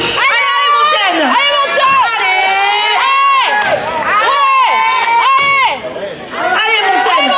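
At a women's Stihl Timbersports competition in Sarrebourg, France, a close crowd shouts and whoops in loud, rhythmic bursts of cheering, with excited voices overlapping throughout and a brief dip near the end.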